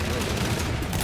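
Heavy gunfire in Call of Duty: Infinite Warfare, a loud, dense automatic rattle that fills the short moment with no break.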